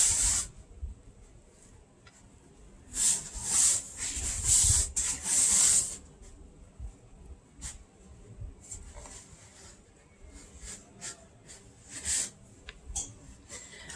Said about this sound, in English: I like to rub the sides of the bowl while I'm stirring the flour in